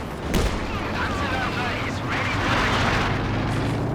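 Land Mattress rocket artillery barrage in Company of Heroes 2: a string of booming blasts and crackling impacts rolls on over a dense battle rumble, with a sharp hit early on, under a voice speaking over the action.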